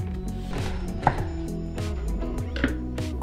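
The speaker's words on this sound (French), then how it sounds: "Commencez par éplucher et émincer finement l'oignon." A kitchen knife finely slices a peeled onion on a cutting board, a quick run of crisp, close chops knocking in an even rhythm with a few sharper taps.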